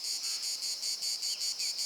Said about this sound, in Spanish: la cigarra rompe el abismal silencio con su ensordecedor canto